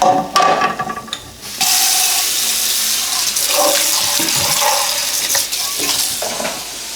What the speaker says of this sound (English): Gotta wash these damn dishes as I go.